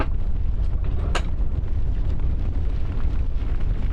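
Lava erupting in a video game, a loud continuous rumbling roar with a sharp burst about a second in, sustained throughout.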